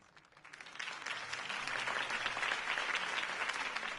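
A crowd applauds after Harvey Dent's campaign speech in the Batman Telltale Series video game. The clapping swells quickly from a few hands into sustained, dense applause with no talk.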